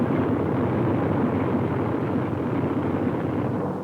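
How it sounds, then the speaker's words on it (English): Massed B-24 Liberator bombers from the Second World War fly in a large formation over the Mediterranean, giving a steady, dense, broadband engine drone that holds loud and even throughout with no voices. "More than 175 giant liberators streaking across the Mediterranean, and not an enemy plane in sight"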